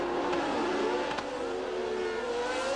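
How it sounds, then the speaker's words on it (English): Formula 1 race car engines from the 1982 season scream continuously at high revs, the pitch sliding as cars pass, loud and steady with no voices. "But the engines drowned him out."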